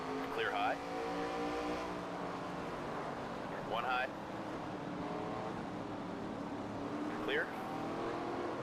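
Race car engine droning steadily in a NASCAR racing video game, a sustained layered hum running throughout, with brief speech-like bursts from a spotter over it.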